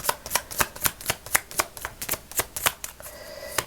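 Tarot cards being shuffled by hand, a quick run of crisp close riffling snaps in an uneven rhythm, loud and clear with no talking.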